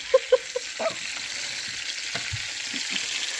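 Chicken tenders frying in lard on a farm kitchen stove give a steady, close sizzle, opening with a few sharp clinks and pops before settling into even crackling with no voices.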